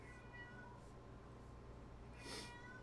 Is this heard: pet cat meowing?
yes